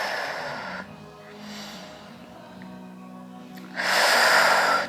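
Deep breathing during a movement and exercise class, with slow, audible inhales and exhales close to the microphone. A long soft breath is followed by a louder, forceful exhale near the end.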